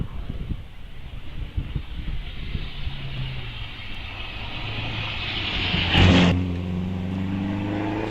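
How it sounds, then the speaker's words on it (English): A 500cc motorcycle-engined Kellaway race car passes at a hillclimb, its engine note rising and falling across the course, with a brief louder burst near the end as it climbs away at moderate distance. "you can hear now the 500cc motorcycle engine cars as the Kellaway car goes across the front of the house and up across Bunnies towards the gate"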